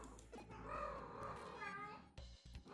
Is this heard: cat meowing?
yes